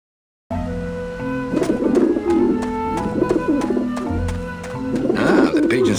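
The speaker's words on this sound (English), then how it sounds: "The pigeons obviously like this dish vent." Pigeons coo on a roof in the video game Grim Fandango, repeated throaty rolling calls rising and falling in bursts over a steady musical background, close and fairly loud after a brief silent start.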